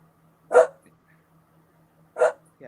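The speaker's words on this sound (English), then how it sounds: "Sorry, it's my dog. She's like barking at someone." A pet dog barks twice indoors, well separated, each a short sharp close bark over a faint steady hum, with quiet in between.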